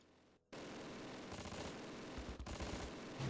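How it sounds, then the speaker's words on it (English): Rapid machine-gun bursts and gunfire in the World War II strategy game Close Combat: The Longest Day, at the Pegasus Bridge battle, loud and dense, rattling on for nearly three seconds after a brief quiet start. "What are they shooting at? They're shooting down here."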